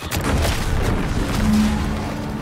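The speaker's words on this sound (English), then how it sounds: "What's that? An explosion?" An explosion in the video game The Outer Worlds 2, a fairly loud boom followed by a rumbling, crackling tail that fades out over a couple of seconds, with no speech over it.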